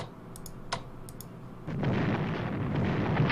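Battleship and cruiser guns fire in a strategy war game set in WWII Europe: faint clicks at first, then a louder rumbling boom of cannon fire that holds steady to the end, with no voices.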